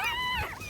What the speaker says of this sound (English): the little pups are in distress